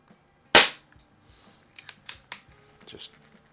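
A Crosman 1701P air pistol fires a Daisy wadcutter pellet with one sharp, loud crack, followed by several quieter mechanical clicks and small handling knocks.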